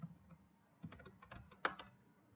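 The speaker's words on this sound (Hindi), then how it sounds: "उसको मैं नोटपैड पे भी टाइप कर लेता हूं" Keys tapped on a computer keyboard while typing into Notepad, irregular soft clicks in short bursts with one sharper keystroke, close and quiet, no talking.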